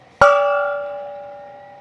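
A home run gong at a Dodgers vs Rockies baseball game, struck once: a sharp, loud hit followed by a long, clear ringing tone that slowly fades.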